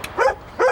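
A dog gives two short barks in quick succession, close and moderately loud, with a quiet gap between them.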